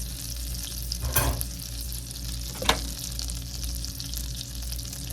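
Brown sugar being stirred into melted butter in a cast-iron skillet, a soft scraping stir with two brief louder swipes against a low steady sizzle, no talking.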